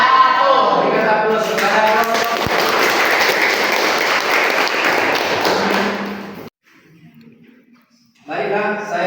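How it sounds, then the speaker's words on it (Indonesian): An audience applauds a student group in a classroom, a steady dense clatter of clapping lasting about six seconds that stops abruptly, followed by brief quiet and then voices. "Berikan aplaus kepada kelompok."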